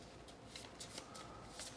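Frosthaven road event cards being shuffled, a soft riffling whoosh with a few brief papery bursts, faint and close with no talk.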